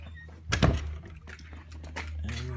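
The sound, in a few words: locking the house door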